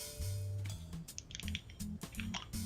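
A bottle of Rocchetta Brio Blue sparkling water being opened, with a close cap twist, then soft fizzing, gurgling and clicking as the liquid moves, a low tonal hum running underneath.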